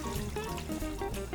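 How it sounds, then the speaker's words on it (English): Water pours steadily into a cooking pot over the sediment of a Korean short rib sauce, a continuous gurgling trickle lasting a moment. "I'm going to take a little bit of water here, right into about half of the sediment that I had in my sauce"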